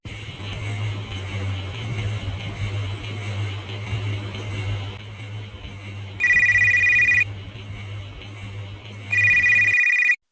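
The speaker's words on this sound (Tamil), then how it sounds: "ஏண்டா போன் அடிச்சுக்கிட்டு இருக்கு," A phone ringtone bursts out loud in two short electronic rings separated by a pause, over a low steady hum of background noise.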